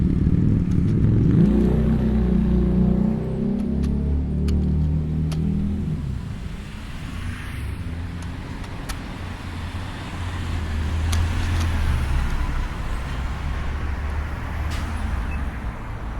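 Busy road traffic heard while out on a morning scooter ride: steady rumble of passing cars and motorbikes, engines swelling and fading, fairly close and loud, with scattered clicks and no talk.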